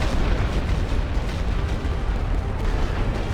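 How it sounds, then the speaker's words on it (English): Artillery shells exploding in the World War I strategy game Elite Great War: a dense, continuous rumble of booming blasts, loud and overlapping with no pauses, deep and heavy throughout. "They are being hammered by the artillery."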